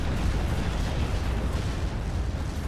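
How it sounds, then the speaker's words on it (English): A rocket artillery barrage pounds a town in the Steel Division: Normandy 44 World War II strategy game, a dense, continuous roar of overlapping explosions and deep rumbling impacts that sound heavy and close. "Just so many rockets coming down, and anything that's left in this town is just, going to be gone"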